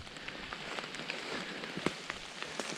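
Rain pattering down in an old forgotten cemetery outdoors, a steady soft hiss with scattered sharper drops striking surfaces nearby, no voices.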